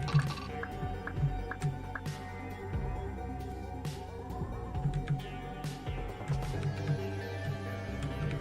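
Water is poured into a space to kill bugs, producing a steady trickle with scattered drips and gurgles against a low background hum.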